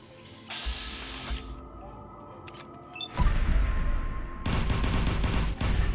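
Gunfire from a weak gun in the video game Fallout 4, heard as quick rattling bursts of rapid shots separated by short gaps, loud and close against a faint humming game background.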